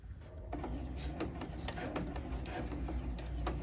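A sewing machine stitches elastic onto a fabric coffee sleeve, running with a steady mechanical whir and rapid ticking needle strokes, close and continuous.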